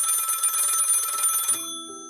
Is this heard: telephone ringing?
yes